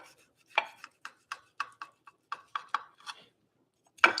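A knife cutting through thin pieces of cooked meat on a board, a string of crisp, separate taps at an uneven pace, close and with no talk.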